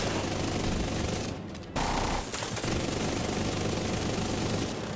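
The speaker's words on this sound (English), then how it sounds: "Should I shoot him in the leg? I think I should shoot." Gunfire in The Division rattles almost continuously as sustained automatic bursts with only a brief gap, fairly loud, with no voices over it.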